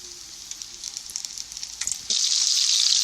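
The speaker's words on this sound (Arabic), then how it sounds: "حمر الكفته مع بعض اهي" Kofta dusted in flour fries in hot oil, a steady loud sizzle that bursts into a brighter, fuller hiss partway through as more pieces go into the pan, with no talk.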